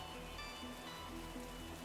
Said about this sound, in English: Rain hammers the deck, pounding on their eardrums like a sluggish, inescapable percussion from beneath the waves.